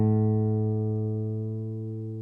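Guitar strings plucked at the 5th fret during tuning ring out as a sustained, harmonically rich note. It decays slowly over about two seconds with no talking.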